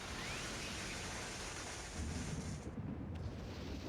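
Lightning strike thunder in the Ōkami video game, a dense, noisy rumbling wash that deepens into a heavier low rolling boom toward the end, with no talk.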